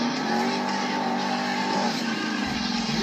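Monster Jam monster truck at a stadium show in Anaheim, its engine roaring and revving steadily on the track for the whole stretch, loud and continuous with a shift in tone near the end.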